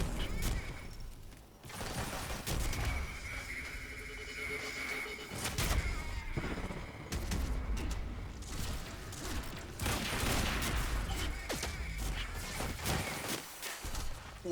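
Rapid bursts of small-arms gunfire in the action video game Quantum Break, loud and continuous amid clanking mechanical noise and crashes, with no voices over it.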